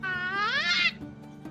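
A cat lets out a single drawn-out meow that rises in pitch and then cuts off, fairly close and clear, followed by quiet room noise.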